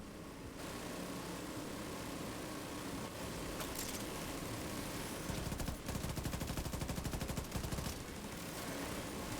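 Steady rattling turret gunfire in The Division 2, loud rapid automatic shots running almost throughout with a denser burst midway over a low engine-like rumble, no speech.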